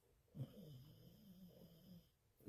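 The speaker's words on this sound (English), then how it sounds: "she is snoring again" A sleeping woman snores with slow, rasping low breaths, one long drawn-out snore filling most of the stretch before another begins, close by and fairly quiet, with no talking.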